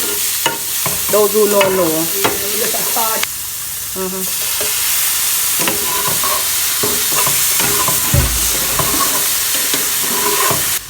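Ackee and saltfish are stirred and fried in a pot with little oil, giving a steady sizzling hiss throughout, broken by scraping spoon strokes and clanks, while a voice talks over the cooking.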